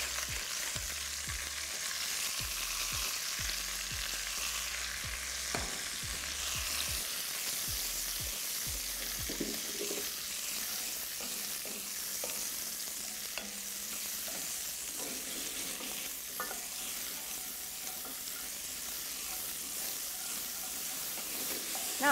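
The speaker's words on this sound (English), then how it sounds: "I'm just going to fry these over a high heat just to get some colour on them" Button mushrooms fry over high heat in a pan, giving a steady close sizzle and hiss, with intermittent stirring clatter and scraping through the first half, then continuous frying noise with no talk.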